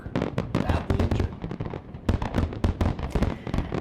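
Fireworks finale of San Diego's Big Bay Boom show, a dense, continuous barrage of booms and crackling bursts with no pauses between them.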